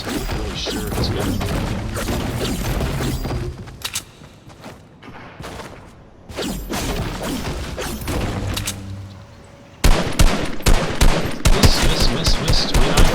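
Gunfire in the video game Fortnite, with pistol shots among it: dense bursts of sharp shots and crashes fill most of the stretch, easing briefly midway before a louder, rapid volley of cracks closes it out.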